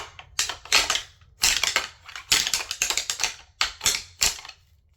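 Two sets of deer rattling horns fixed together, clashed and ground against each other in sharp clattering bursts, up close, with brief pauses between bursts and no talking.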